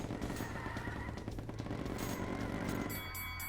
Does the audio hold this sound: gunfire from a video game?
yes